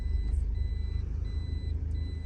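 A car's engine idles steadily with a low, even rumble throughout, no talk over it and only faint high tones in the background.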